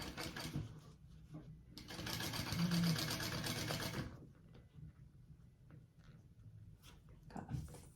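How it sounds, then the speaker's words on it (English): Sewing machine topstitching along a bag panel, a steady whirring run of about three seconds that then fades to quiet handling noises, with faint talk nearby. "you're going to top stitch along that top piece you just added"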